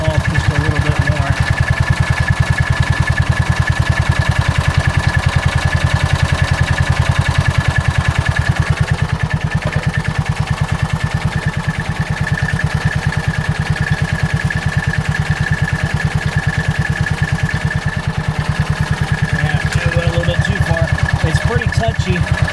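A John Deere Gator's small engine idles steadily at close range, a continuous even chugging that holds through the clip while someone talks over it during an idle screw adjustment.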